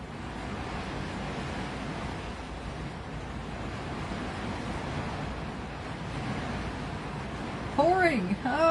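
Heavy rain pours outside as a continuous, even hiss that stays steady throughout, with a brief voice near the end.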